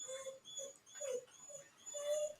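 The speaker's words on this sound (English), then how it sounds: "Whose dog is whining" Dog whining and whimpering outdoors, a few high, plaintive cries in short bursts with brief pauses, moderately distant and alone without talk.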